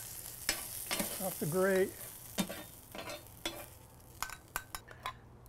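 Onions sizzle on a hot grill while a utensil scrapes and stirs them, with clinks of metal and brief talk over the frying.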